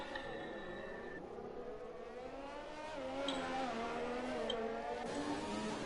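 Several race cars roar through the Monaco tunnel in a racing video game, a steady dense engine drone that swells louder midway as more cars pass close.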